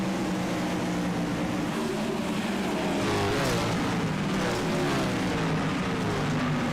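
Sprint race cars in a 410 Series sim racing game at Charlotte roar around the track, their engines droning loudly and continuously, with pitch shifting as the cars jostle and pass.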